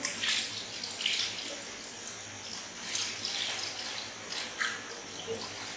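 Water trickles and splashes gently as it is poured into a saucer during a simple science experiment, a soft, fairly quiet flow with small drips, heard alone without talk.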